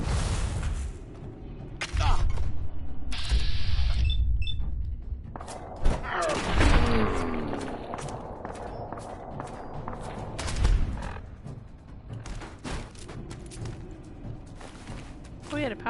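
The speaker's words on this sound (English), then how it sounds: "Who's shooting at me?" Gunfire from gunners in Fallout 4, scattered shots and thuds mixed with footsteps and combat noise, moderately loud, with a person talking throughout.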